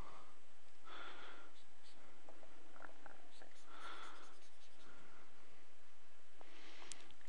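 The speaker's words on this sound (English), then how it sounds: "you continue to draw this thing out with all this kind of detail" Drawing on paper for a drawing tutorial gives soft, scratchy strokes in a few short bursts spaced several seconds apart, faint and close, over a quiet room with light breathing.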